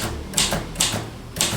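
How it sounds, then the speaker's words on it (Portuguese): Typewriter keys struck in three sharp, close clacks at uneven intervals, each a crisp mechanical snap with a short rattle, no speech. "tem muito tempo que eu não pego numa máquina de escrever"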